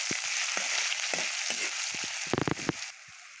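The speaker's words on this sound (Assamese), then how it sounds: "এতিয়া মই ঢালিম পিঁয়াজ, ৰচুন, জলকীয়া, আদৰক চব" Onion, garlic, chilli and ginger hit hot oil in a home kitchen, giving a loud continuous sizzle and crackle, with a few sharp clinks of a utensil stirring the pan toward the end.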